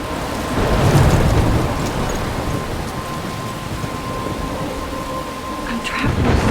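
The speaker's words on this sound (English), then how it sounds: "I'm trapped in a storm." A thunderstorm in the Life Is Strange video game: steady, dense rain with low rumbling thunder rolling underneath, loud and continuous throughout, with no talking.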